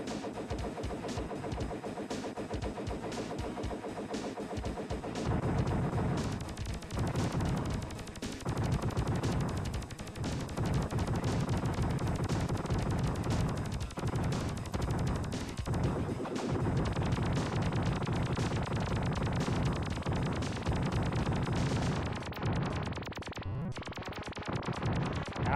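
Rapid shooting and explosions from the side-scrolling shooter Rendering Ranger: R2, a dense, continuous barrage of gunfire and blasts layered over game music, loud and steady throughout with no talking.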